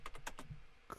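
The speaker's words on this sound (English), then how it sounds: "I'm just typing one hand because I'm holding my mic" Quick one-handed typing on a computer keyboard, a short burst of several close, crisp key clicks, a brief pause, then a few more taps.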